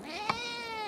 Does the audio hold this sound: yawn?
no